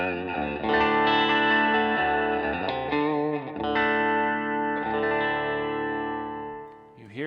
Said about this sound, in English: This is the sound of a Telecaster with the E string dropped down to D.